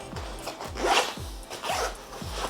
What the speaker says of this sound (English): There is one zip right at the front.